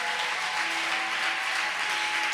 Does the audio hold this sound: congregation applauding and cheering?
yes